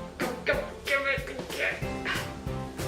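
A dog named Jack whimpers and gives short barks and yips indoors, pleading for a pair of black locust mitts, with people talking over and around the sounds.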